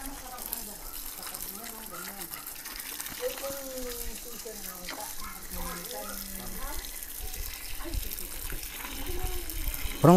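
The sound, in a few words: water running while rinsing oregano leaves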